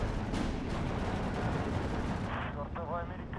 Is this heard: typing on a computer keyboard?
no